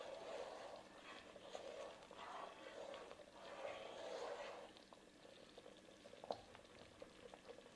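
A pot of vegetarian Japanese curry thickened with roux bubbles and blurps at a steady simmer, with soft, thick popping in gentle waves, quiet and close, ending with a single sharp clink.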